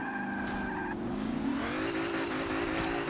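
In Forza Motorsport 7, a Ford Falcon XR8 race car spins its rear tyres, a continuous loud squeal over a rising engine roar as it accelerates, close and unbroken throughout.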